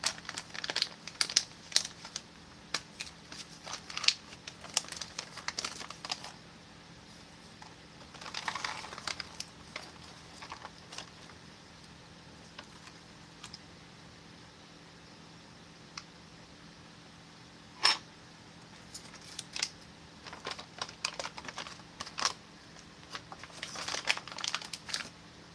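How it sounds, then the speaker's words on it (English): A plastic MRE cranberry pouch crinkles softly while a tear notch is cut into it, faint scattered crackles and rustles in brief clusters, close by in a quiet room. "I forgot to put the tear notch in this, so I'm just going to go ahead and cut one in the cranberries"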